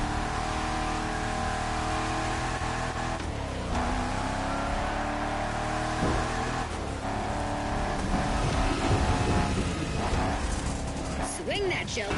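A car in The Crew Motorfest racing downhill, steady engine drone with shifting revs and tire noise throughout, under a voice talking over most of it.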